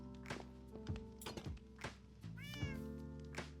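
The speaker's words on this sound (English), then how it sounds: "Cats everywhere." Several Minecraft cats meow repeatedly in a game, short tonal mews overlapping at irregular intervals over a steady low hum, with soft thumps and taps between them.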